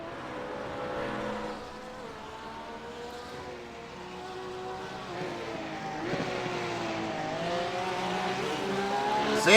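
GT3 race cars racing at Motorland Aragon, a loud blend of engines screaming and shifting, with the pitch climbing as cars close in and swell toward the end.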